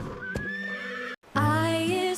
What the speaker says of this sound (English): H is for horse, his hooves go clip-clop, clip-clop on the ground.